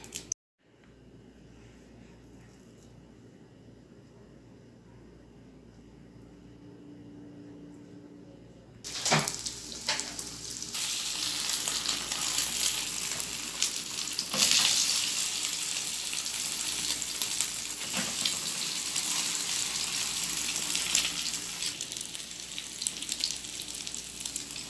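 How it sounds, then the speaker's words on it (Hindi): Chicken shami kebabs dropped into hot oil in a pan, bursting into a loud, steady sizzle after a quiet stretch, with crackling and spitting continuing to the end. "गर्म होने पर हम शामी कबाब डालते हैं।"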